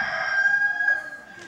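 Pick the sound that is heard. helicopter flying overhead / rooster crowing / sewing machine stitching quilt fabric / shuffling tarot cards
rooster crowing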